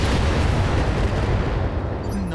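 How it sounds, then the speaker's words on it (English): Heavy mech weapons in the BattleTech video game fire all at once, producing a dense, continuous roar of booming artillery-like blasts that stays loud and close across the whole stretch. "Firing everything"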